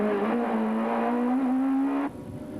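Onboard a touring car racing in the 1995 Spain Touring Car championship, the engine holds a loud, steady high-revving drone that climbs slightly in pitch, then suddenly drops off as the driver lifts near the end.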